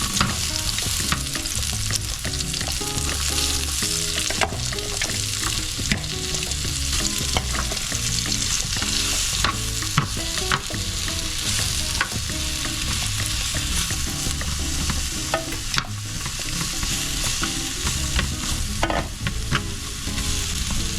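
Vegetables sizzle loudly in a hot pan for a Mexican parrillada while a utensil stirs and scrapes them, a dense continuous frying hiss broken by frequent clinks and scrapes, close up with no talk.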